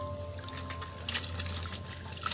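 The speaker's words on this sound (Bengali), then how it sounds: "এদিকে বন্ধুরা শাকও ধোয়া চলছে" Water running steadily while leafy greens are washed in a home kitchen, a soft continuous trickle and pour with occasional splashy bursts, close and moderately quiet with no voices.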